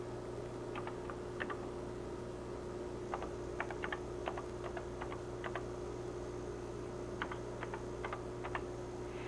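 Faint clicks of typing on a computer keyboard, short clustered runs of keystrokes separated by pauses, heard over a steady electrical hum and hiss.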